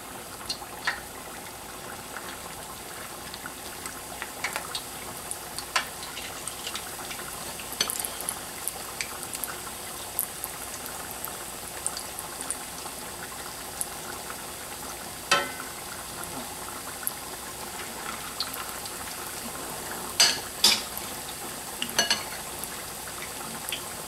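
Corned beef hash patties fry in a pan with a steady, quiet sizzle and scattered crackling pops that run on throughout, with no voices.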